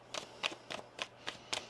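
A deck of tarot cards is shuffled in six quick, evenly spaced riffles or bridges, each a short crisp flutter, close and fairly quiet, with no talking.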